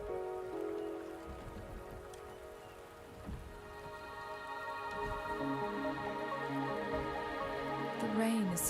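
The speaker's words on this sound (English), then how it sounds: "The rain is subsiding, and the sky will soon clear." Steady rain falls in a video game scene, a continuous patter with a tonal musical drone and soft voice-like tones underneath, holding at moderate loudness throughout.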